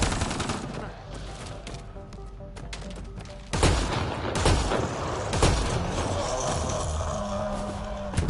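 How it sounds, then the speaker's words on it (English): Shotgun blasts ring out in the Mass Effect Andromeda video game, a few heavy booms over continuous battle noise and other gunfire, with some talking mixed in. "Yes, there we go, a shotgun."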